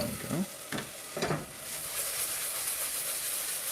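A stir fry of peppers, ginger, garlic and turmeric sizzling in a pan, with a few sharp clanks and scrapes of stirring early on, then a continuous hissing fry.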